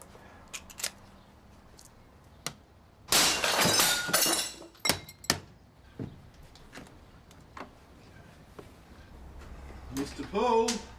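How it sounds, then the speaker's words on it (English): A door is forced in a police drama: scattered thuds and knocks build to a loud burst of shattering, tinkling glass, followed by more bangs and debris, then a voice calls out near the end. "You could break the door down."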